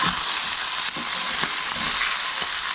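Bacon fries in a hot pan with a steady, loud crackling sizzle, close up, punctuated by a few soft stirring or scraping bumps throughout.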